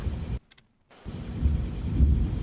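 Thunderstorm in the Roblox game Twisted, a heavy rumbling roar of rain and thunder that cuts out abruptly for about half a second before resuming, loud and continuous.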